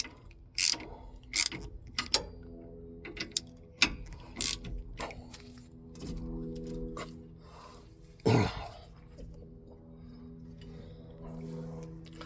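Ratchet clicking while tightening the T bolts on a 1976 Ford F100 upper steering column, in short, sharp bursts of clicks separated by pauses and small mechanical knocks, close by.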